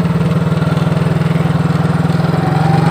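A small engine runs steadily nearby, its throttle opened slowly so the pulsing low drone rises gradually and evenly over a few seconds with no talk.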